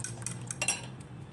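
A utensil clinks and scrapes lightly against a bowl while eggs are beaten, quiet, close and uneven.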